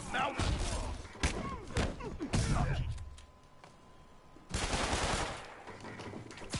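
Bursts of enemy gunfire in the Spider-Man PS4 video game, sharp repeated shots and thumps clustered early and again near the end, with a quieter stretch between, mixed with game effects.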